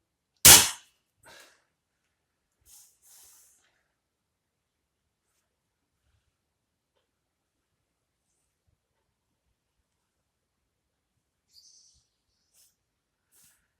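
A single sharp crack from a BRK Ghost PCP air rifle, loud and close, followed by faint handling clicks and a long stretch of near silence broken by a small click near the end.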